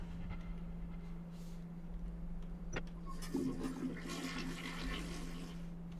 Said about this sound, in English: The flush noise.